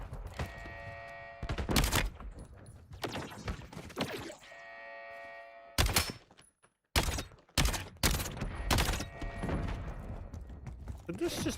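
Gunfire from a video game gun tuned for heavy damage: several loud bursts of rapid shots separated by quieter gaps, up close, with a mechanical whine and clatter between volleys.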